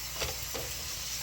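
Steak sizzling in a pan, a steady close hiss of frying with a couple of brief louder crackles, no talking.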